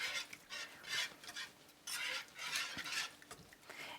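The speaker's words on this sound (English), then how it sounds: "stir it for a little bit till you know that it's nice and smooth" Sausage gravy made with hot sausage being stirred in a pan, a spoon scraping and swishing in repeated bursts that rise and fall, close up with no talking.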